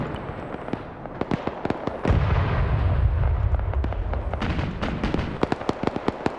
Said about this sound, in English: I'm hearing the BMP firing off.